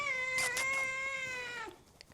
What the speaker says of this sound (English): oh, the cat is here. I have a cat. Her name is Luna and she's right here.